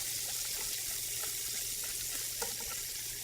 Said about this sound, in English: I add the water about a little bit at first so that I don't get any lumps